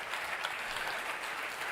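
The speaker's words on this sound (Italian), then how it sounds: "Please round of applause for this incredible car." An audience applauds the unveiling of the new Alpine A522 car, steady dense clapping heard close and loud throughout, with no talking over it.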